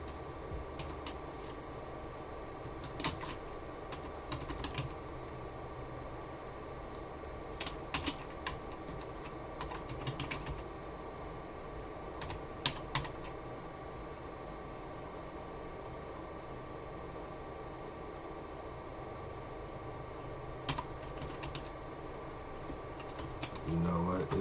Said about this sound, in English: We're gonna type in that command up top that's highlighted.